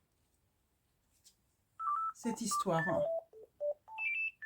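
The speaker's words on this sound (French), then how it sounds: "excusez-moi, mon téléphone sonne" A mobile phone rings with a melody of short electronic beeps, close and fairly loud, mixed in and around a woman's speech.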